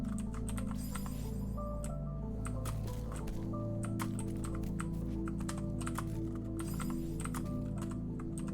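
A computer keyboard clatters with quick, uneven key presses during game play, steady and close, with faint background game sound and no talking.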